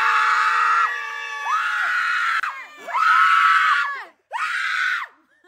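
A small crowd screams and shrieks loudly for a game winner, several long sustained high-pitched bursts separated by brief pauses, close and intense.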